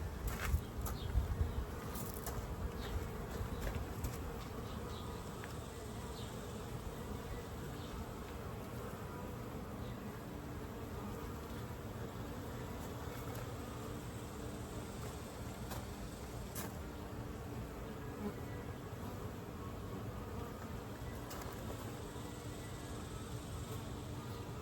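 Honey bees buzz steadily around a hive with cross-built comb, a dense, continuous drone that stays close and even for the whole stretch, with no talking.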